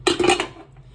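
Dishes and cutlery clink as rice is served onto plates, a quick cluster of three or four close metallic taps and scrapes that fades out within a second.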